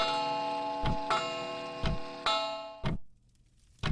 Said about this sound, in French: Quand l'horloge sonne les 18 heures